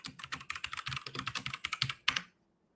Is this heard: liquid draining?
no